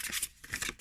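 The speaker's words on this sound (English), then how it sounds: "I don't have problems with the thumb when it comes to kind of overhand shuffle" Tarot cards being overhand shuffled, a quick close burst of crisp papery riffling and flicking, soft and brief.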